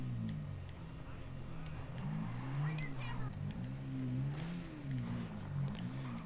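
The Sanchez motorbike in a video game drones steadily with a close, buzzing engine note that rises and falls as the throttle is worked, and a voice talks over parts of it.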